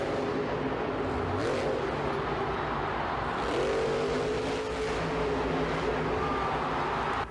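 A truck engine roars steadily at full speed, loud and continuous throughout, with the pitch shifting as the vehicle brakes and surges.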